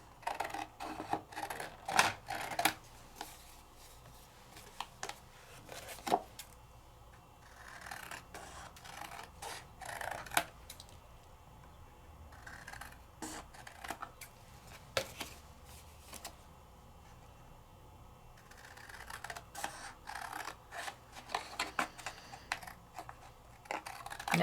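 Scissors snip freehand through decorative rice paper in quick, close clusters of crisp cuts, separated by short pauses and quiet rustling of the sheet.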